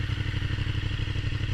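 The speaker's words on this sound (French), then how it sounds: "je vais vous faire écouter le bruit de la moto" A motorcycle engine with a baffled exhaust idles nearby with a steady, throbbing, slightly clattery rhythm, running alone without any talk.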